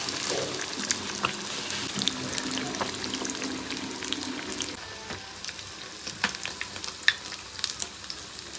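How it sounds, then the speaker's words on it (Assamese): Fish sizzles steadily in hot oil in a village-style kitchen, a dense, even frying hiss with small crackles and pops throughout, close and without voices. "এতিয়া মই আগতে মাছখিনি ফ্ৰাই কৰি লওঁ"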